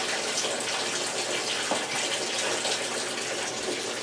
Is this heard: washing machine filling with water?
yes